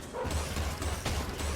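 Short dog barks and yips from the Enter the Gungeon video game, a few quick bursts over steady game music and effects.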